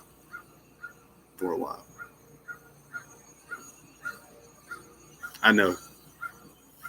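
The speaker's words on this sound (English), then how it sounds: "I love the crows." Crows caw in short, evenly spaced calls outdoors, with two louder bursts of sound mixed in and a person speaking briefly over them.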